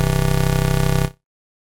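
Synthesizer white noise, routed around the filter section without resonance boost, plays as a steady dense hiss with a buzzing tonal layer and a faint rapid pulsing, then cuts off abruptly after about a second into silence.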